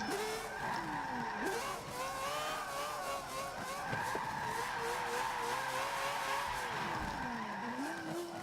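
A car with a 13B rotary engine drifts in a racing video game, its tires squealing loudly and continuously in wavering pitches over a droning engine.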